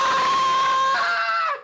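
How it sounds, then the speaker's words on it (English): A loud, sustained cartoonish scream from a character in the video game Ace Attorney: Dual Destinies, holding one pitch and then bending lower before cutting off abruptly. "I heard him scream."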